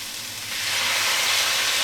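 Soy sauce poured into a hot pan of sizzling turkey, sweet peppers and hot chili, giving a loud, steady frying hiss that swells after the first half second and holds.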